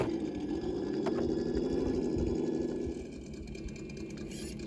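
Traxxas TRX4 RC crawler truck's electric motor whining steadily as it reverses outdoors past a small tree, a continuous close buzzing hum that eases slightly in level toward the end.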